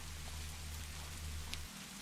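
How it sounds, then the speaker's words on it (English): Rain falls in a steady, even hiss, faint and continuous, with a low rumble underneath that drops away near the end. "listening to the rain"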